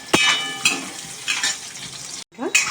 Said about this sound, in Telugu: ఇప్పుడైతే ఈ మామిడికాయ ముక్కలు ఇలాగా ఫ్రై చేసేసుకుందాం